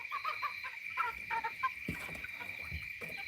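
Chickens cluck outside their coop on a farm, a flock of busy, overlapping clucks and short calls repeating throughout, fairly close, over a steady high-pitched background whine.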